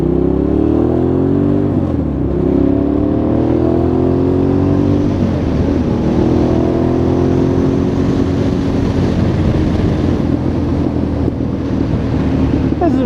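A motorcycle riding through a turn on a worn rear tire, with a loud steady engine drone whose pitch sweeps and wavers, heavy wind rush over the microphone throughout.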